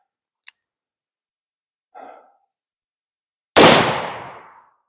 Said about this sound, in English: one round from a 3-inch snub nose